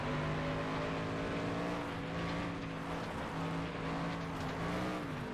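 Race car engine from the FlatOut 2 video game holds a steady, loud drone with layered harmonic tones, pitch shifting slightly through gear and throttle changes, running continuously without pause.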